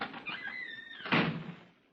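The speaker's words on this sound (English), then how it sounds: "Slip out as soon as I open this door. I'll lock it behind us." A door is handled in an old-time radio drama, a creaking squeal followed by a firm clunk of the latch or lock, close and fairly quiet, then fading out.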